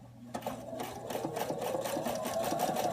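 Viking Topaz 30 sewing machine running a zigzag stitch, a close, steady rapid mechanical whir with even rhythmic pulsing that carries on continuously with no talk.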